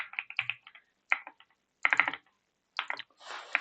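Keys clatter on a computer keyboard while code is typed into VS Code, coming in short clustered bursts separated by brief pauses, close and clear with no talking.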